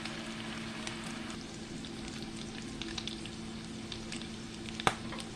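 Salmon croquettes fry steadily in a pan until golden brown, a continuous close crackling sizzle with scattered pops and one sharper spatter near the end, no voices.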